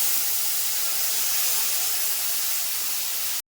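Tamarind dropped into a hot mustard and chilli tempering for a puti fish sour curry, a loud, steady sizzling hiss that continues unbroken before cutting off abruptly.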